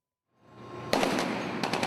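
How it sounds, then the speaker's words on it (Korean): Gunfire rings out over the dark sea during the rescue of a ship hijacked by Somali pirates, a rising rumble followed by a sharp loud burst and a quick cluster of rapid shots. "칠흑 같은 바다 위 정막을 깨고 총성이 이어집니다."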